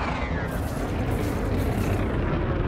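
Heavy shotgun fire from a Python ship in a space combat game, a dense, continuous rumbling barrage of blasts that stays loud and steady throughout with no pauses.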